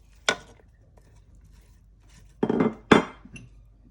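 Sliced bell peppers dropped into the pot of a Cookeo cooker for a beef tajine, giving a sharp clatter, then a short pause and two louder clinking tumbles of pieces against the pot.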